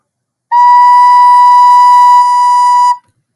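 A recorder sounds the note B as a single steady, pure tone, held softly and evenly for about two and a half seconds with no other sound around it.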